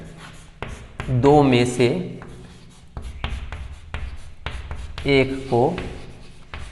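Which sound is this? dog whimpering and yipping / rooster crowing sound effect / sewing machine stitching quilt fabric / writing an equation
writing an equation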